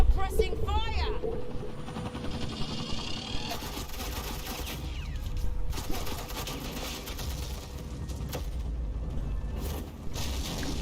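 Suppressing gunfire crackles through a Batman: The Enemy Within game scene, bursts of shots and mechanical clatter running steadily across the clip at moderate level.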